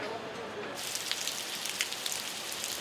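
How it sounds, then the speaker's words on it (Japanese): Rain falls steadily on a Lisbon street, a dense close patter of drops that begins softly and swells into a constant hiss with scattered sharper splashes. "この日は雨。"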